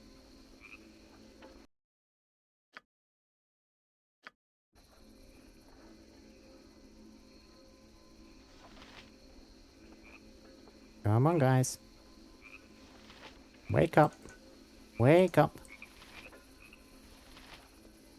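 Frogs croak and crickets chirp as a steady, faint night ambience in the Baldur's Gate 2 video game. The bed drops out briefly near the start, and a voice later speaks loudly over it in short bursts.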